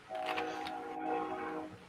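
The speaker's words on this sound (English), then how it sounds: "Oh, there's the train again." A train passes at a distance, its horn sounding as a sustained tonal blare over low rumble, faint and continuous for a couple of seconds.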